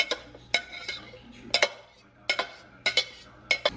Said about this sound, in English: now I'm just gonna add everything, my meat and my onions, right into a crock pot